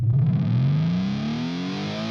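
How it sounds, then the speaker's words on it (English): A reversed electric guitar strum on A sharp swells with a distorted, rising pitch sweep that resembles a car revving up, loud and alone for just over two seconds. "So I kind of did this thing with the guitars that open up the song"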